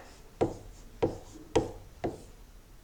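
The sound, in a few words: writing on a board during a math lesson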